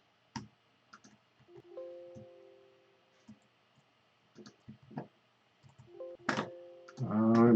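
Sparse, quiet clicks come from a computer keyboard with a stuck alt key, pressed in short scattered bursts amid faint tones.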